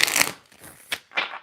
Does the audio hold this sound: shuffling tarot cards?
yes